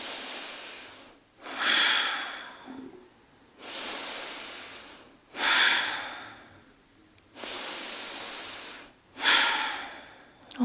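Someone breathes slowly and deeply through an exercise, long drawn inhales alternating with audible exhales in a steady repeating cycle, close and clear, without speech.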